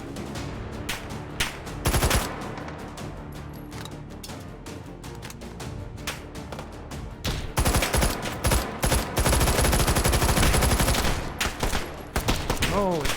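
Heavy automatic gunfire in the H3VR virtual reality shooter, rapid bursts and fusillades crackling throughout, growing denser and louder in the second half, with occasional talk underneath.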